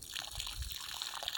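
Water poured from a hose or can onto the soil around a struggling young peach tree outdoors, a steady close splashing trickle with a low gushing rumble underneath, continuous and alone.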